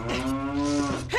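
A cow in the video game Ocarina of Time gives a single loud, sustained moo with a low droning tone, heard close up with no talk.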